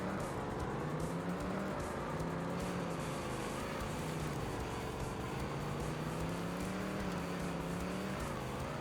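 A monster truck engine in TNN Motorsports Hardcore TR drones steadily with wavering pitch as the throttle rises and falls, a continuous rough roar without pauses.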